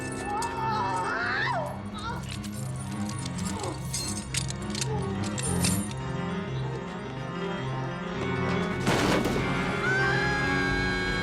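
Keys jangle as a boy strains to reach them in a scene from the 1990 horror anthology film Tales From The Darkside, scattered metallic clinks under a loud orchestral score and sound effects.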